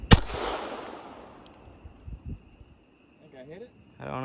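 .22 caliber rifle firing once at a KaBoom Caps bottle target outdoors, a single sharp crack with a short ringing tail, followed by faint rustling and a voice starting at the end.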